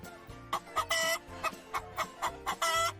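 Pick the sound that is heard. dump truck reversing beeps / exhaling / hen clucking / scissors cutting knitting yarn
hen clucking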